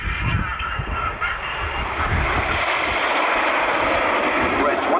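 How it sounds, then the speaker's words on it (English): Red Arrows display jets flying in close formation at the 1999 Ulster Airshow in Newtownards: a continuous loud, broad jet roar sustained throughout, with a commentator talking over it. "Aircraft follows the leader as he turns away from you for the whirlpool."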